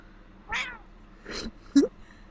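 Pet cat Bella gives two or three brief meows, clear and close, with short pauses of quiet between them.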